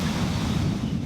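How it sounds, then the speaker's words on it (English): Strong wind gusts across a carp-fishing lake bank at Wraysbury, a loud, continuous roar buffeting the microphone with no voices. "The wind is hacking into this bank"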